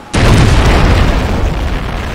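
Ship cannons firing and explosions in the video game Dawn of Discovery: a sudden loud boom followed by a sustained, rumbling roar of bursts that fills the whole moment.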